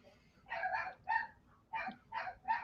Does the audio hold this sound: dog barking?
yes